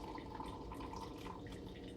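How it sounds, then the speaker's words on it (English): Water trickles and drips steadily into a drip coffee maker, a quiet continuous pour with faint splashing and no voices. "add the rest of our water"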